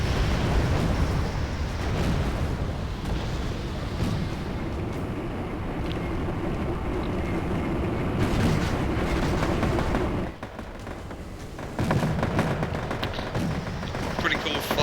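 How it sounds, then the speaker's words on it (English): Rocket artillery barrages rumble continuously in Wargame: AirLand Battle, a dense roaring wash of distant launches and impacts that keeps up nearly without a break, with a brief dip near the end. "Stunning an awful lot of them with their rocket barrages."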